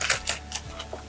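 A knife cuts through half an onion on a cutting board in a few quick, sharp chopping taps, close and clear, with no talking.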